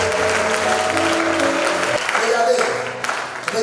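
A church congregation bursts into applause to acclaim the Lord, the clapping loud and close, fading out toward the end beneath a droning tone.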